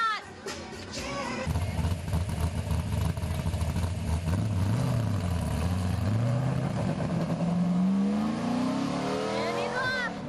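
A car engine revs and climbs in pitch as it pulls away for a ride, loud and close, with the note sweeping up steadily toward the end and voices briefly heard at the start.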